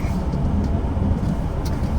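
A parked car's engine idles to warm up, giving a loud, steady low rumble close by that holds evenly throughout, with faint background noise and no clear speech.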